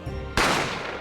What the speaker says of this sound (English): I didn't have time to think about where the sound of the gunshot had come from.